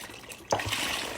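Water poured into a pan of browned hamburger and beef broth, a sudden gush beginning midway and running steadily as a close splashing trickle.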